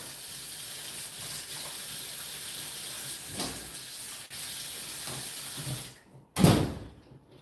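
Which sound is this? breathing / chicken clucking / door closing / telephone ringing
door closing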